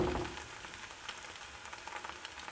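Pancakes frying in a pan on the stove, giving a soft, steady sizzle with fine crackles that carries on quietly throughout, with no one speaking.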